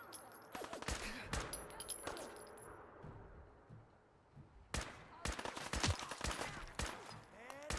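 Gunshots ring out against raiders in Fallout 4, sharp bursts in scattered clusters separated by quieter pauses, some shots rapid and overlapping, fairly close and loud.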